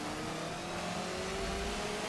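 A race car in a racing game launches off the start line, its engine revving and climbing steadily in pitch, loud and continuous over a thick mechanical drone.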